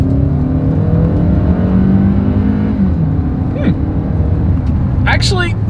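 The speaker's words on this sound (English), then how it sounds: "let's go ahead and do a quick little acceleration test here in the Santa Fe" 2020 Hyundai Santa Fe with a naturally aspirated 2.4 liter four-cylinder accelerating hard, engine drone rising steadily in pitch under road noise, with brief speech-like bursts near the end.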